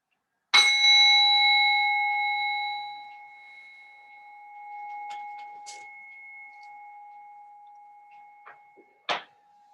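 A bell struck once to close a restorative yoga practice, ringing out clear and loud, then a long, slowly fading shimmering tone with a few faint small knocks, and a second soft strike near the end.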